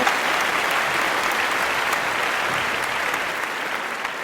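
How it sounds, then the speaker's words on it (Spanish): An audience applauds to welcome a speaker at a church lecture, a full, even burst of clapping that fills the room and tapers off slightly toward the end, with no talking. "Un aplauso."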